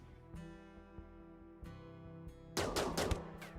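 Gunshots from a RimWorld colony fight: a few isolated sharp shots early on, then a quick burst of several rapid shots near the end, all fairly faint over a steady hum.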